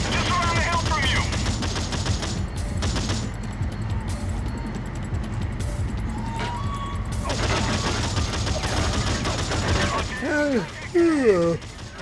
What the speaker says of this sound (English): We're under heavy fire and requesting aerial support.